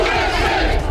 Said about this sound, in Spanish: Vitorearon a Donald Trump y a sus aliados